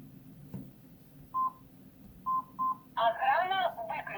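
Phone keypad tones as digits are punched in to send an SMS command to a Kerui W18 GSM home alarm, a few spaced single beeps and then a quicker run of tones, with brief speech nearby.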